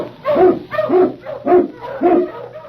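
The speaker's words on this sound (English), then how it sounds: "King, the swiftest, strongest of Eskimo lead dogs, blazes the trail through storm and snow" Eskimo husky sled dogs bark loudly and close by, about five rhythmic woofs in quick succession with no one speaking over them.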